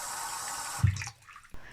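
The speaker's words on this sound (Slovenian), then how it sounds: "Ko so jajca kuhana, jih prelijemo in ohladimo s hladno vodo" Cold tap water pours over freshly boiled eggs, a steady rushing stream that splashes briefly and then thins out to a quieter trickle.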